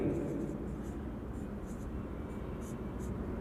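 Marker or chalk writing on a board during a math lecture: faint, scratchy strokes come in short, irregular bursts against steady room noise.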